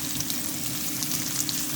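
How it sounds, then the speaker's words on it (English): Garlic sizzles and browns in a pan, a steady crackling fry with small popping spatters throughout, close and even. "you can see the garlic is browning in there"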